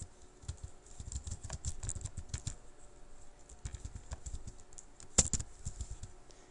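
Fingers type a pip install command on a computer keyboard, quick irregular clacking keystrokes in short bursts with brief pauses, close and fairly quiet, no speech.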